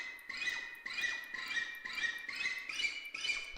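A General MIDI fret noise patch imitating fingers sliding across guitar strings from fret to fret repeats as a series of soft, squeaky wisps in an even rhythm, about seven swipes, fairly quiet and alone.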